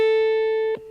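A guitar sounds a clear, sustained high A on the high E string, a bright, steady tone with rich overtones that rings evenly before a brief change near the end, heard alone.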